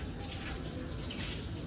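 Steady water running and splashing while one side of a room is washed down at home, a continuous close hiss with a brief louder gush near the end.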